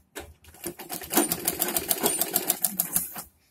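Sewing machine stitching the waistband of a patiala salwar, a rapid run of clattering needle strokes that starts, speeds into an even rhythm, then stops, close and clear with no speech.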